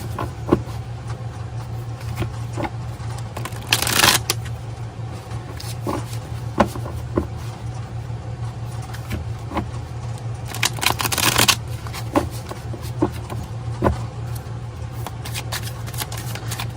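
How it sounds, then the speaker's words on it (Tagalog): A deck of tarot cards is shuffled over and over, with riffling bursts and soft slaps of cards against cards. The sound is close and continuous over a steady low hum, and no one talks. "Balasahin lang po natin maigi para alam po natin na ito ay nabalasan ng maigi."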